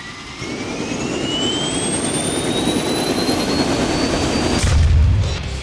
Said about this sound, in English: And how its engine sings